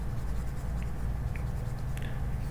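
A pen drawing a number line on paper, soft continuous scratching under a steady low hum, with a few faint ticks of the tip.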